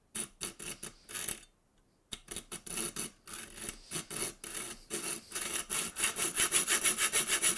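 A small hand saw cuts metal clamped in a tiny mini vise, its rhythmic back-and-forth strokes close and loud, with one brief pause before the sawing picks up again and quickens.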